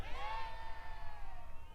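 A crowd of supporters cheers at a political campaign rally in Atlanta, giving a steady, moderately distant roar of voices with whoops rising above it.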